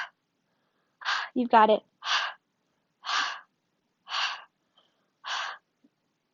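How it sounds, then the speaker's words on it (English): Sharp, breathy exhales pushed out through the mouth during a yoga detox flow, about six short bursts spaced roughly a second apart, close and isolated, with a brief spoken phrase mixed in near the start. "this time we'll add little pulses with sharp exhales out through the mouth"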